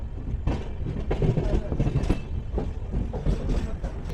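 The 12344 Darjeeling Mail, an Indian express train leaving New Jalpaiguri, rolls along the rails with a steady, loud rumble and rhythmic clatter of wheels over joints, while indistinct voices murmur faintly in the carriage.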